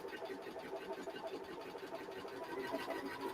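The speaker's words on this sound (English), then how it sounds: "we're just top stitching as we go all the way round" A sewing machine top stitching around a fabric lanyard, giving a fast, steady mechanical whirr and rattle that runs continuously at moderate, close level without a break.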